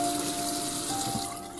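Tap water runs steadily over cabbage leaves as they are rinsed in a kitchen, a close, continuous splashing flow with a faint hum beneath.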